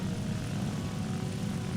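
A fighter-bomber in a video game roars low past an aircraft carrier, a steady, loud propeller-engine drone holding through the whole stretch with no voices.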